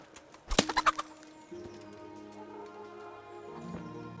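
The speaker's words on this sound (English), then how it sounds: "just killed a chicken by punching it" Chicken clucking in the medieval village of Kingdom Come Deliverance, a quick run of sharp close clucks, then a steady hum of ambient game music and sounds beneath it.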